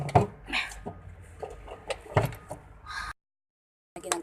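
A small oven is slid out of a storage drawer in a truck cab, with a series of sliding and knocking thumps and clatters over about three seconds, then a brief silence and another bump.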